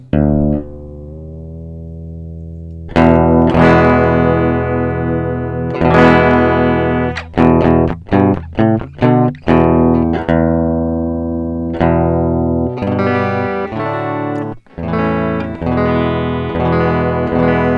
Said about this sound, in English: Let's tune it up a little tighter and make it an actual E note.